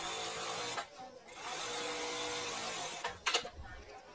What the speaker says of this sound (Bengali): তো দেখুন কিভাবে আমি সেলাইটা দিতেছি